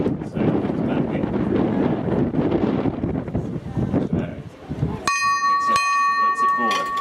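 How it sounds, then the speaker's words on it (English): A loud bell rings out at a match as the 30-second warning, starting partway through and sustaining its ringing tone over steady crowd noise and commentary. "There's the 30-second warning bell."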